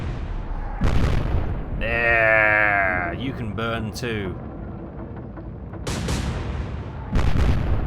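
Heavy cruiser guns fire in the naval combat game Atlantic Fleet, delivering several loud broadband booms near the start and again toward the end, with people talking in between.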